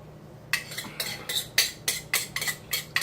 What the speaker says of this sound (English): we're gonna spoon the rest on top